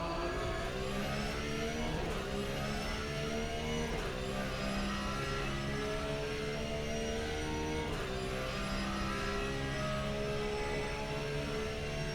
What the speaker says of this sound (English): That drone's quite distracting.